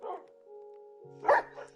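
A dog in the Minecraft video game gives a couple of short synthetic barks, a faint yip at the start and a louder bark near the end, with a steady tonal game hum in between.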